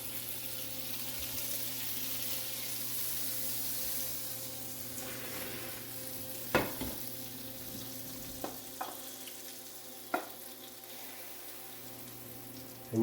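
Butter frying in a very hot pan on a stovetop while plant-based pancakes and sausages cook: a steady, fairly quiet sizzle runs throughout, broken by a few sharp clicks and taps of utensils, with no talking.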